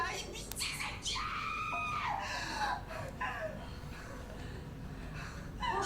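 A woman screams at length in the Korean drama The Glory, with several shrill, strained outbursts rising and falling amid loud, agitated shouting from other voices.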